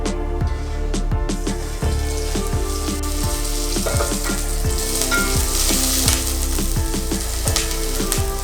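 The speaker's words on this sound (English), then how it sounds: "So I just added onions in here. Let me cook them." Onions fry in a pan at home with a constant close sizzle, overlaid by repeated scraping and clinking as they are stirred.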